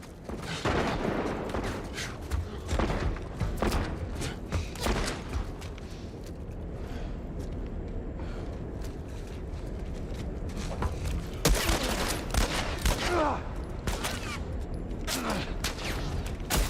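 Gunfire erupts from many directions in The Last of Us Part I, with dense volleys of sharp shots, bursts and booms crowding the whole stretch, loudest at the start and again near the end, while a voice speaks over parts of it.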